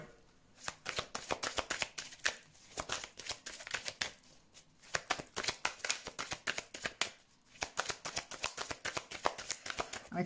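Tarot cards are shuffled, handled and laid out on a surface, with rapid papery riffles and flicks in bursts and short pauses between them, close and fairly quiet with no speech.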